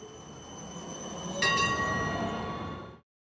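A VIA Rail Ocean sleeper train between Montreal and Halifax rumbles steadily along the track, with a brief metallic squeal or clank midway, before the sound cuts off abruptly.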